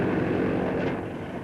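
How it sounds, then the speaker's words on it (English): A propeller airplane circles over an airfield, its engine drone steady and fairly loud throughout, with a slight swell in the middle. "it seems that the American plane is circling the field now"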